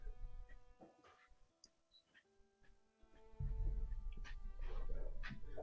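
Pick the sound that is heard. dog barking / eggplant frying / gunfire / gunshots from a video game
dog barking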